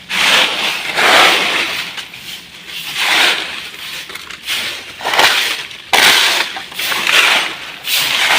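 Broken glass bottles among leftover rubbish being handled and shifted after the All Saints' Day holiday, giving repeated clinking, crunching and scraping bursts at an uneven rhythm, fairly loud and close, with no talk over it.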